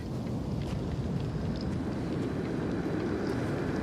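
Thunderstorm on Regis III in The Invincible: a loud, continuous roar of rain and rolling rumble fills the scene without pause, heavy and close.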